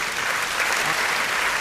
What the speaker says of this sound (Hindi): आप दोनों हाथ उठाकर जोरदार तालियों के साथ संपत जी का स्वागत करें।